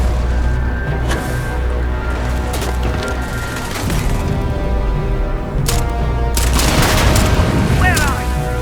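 Rapid bursts of gunfire with booming impacts in the sci-fi game Starfield: Shattered Space, loud and continuous over about eight seconds, with a voice talking intermittently over the shooting.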